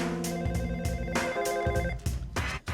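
A traditional telephone bell rings in repeated loud trilling bursts, several rings in close succession with brief gaps, alone and near, with no voices.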